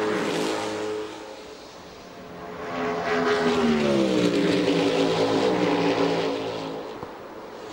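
Indy race cars from the 2006 Indianapolis 500 Carb Day session roar past on the Indianapolis oval, a loud sustained engine howl that swells and rises in pitch as the cars sweep by, then fades slightly.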